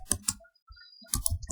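Keys clatter on a computer keyboard while HTML code is typed, two quick bursts of close clicking separated by a short pause.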